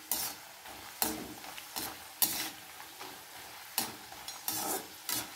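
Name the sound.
papads frying in mustard oil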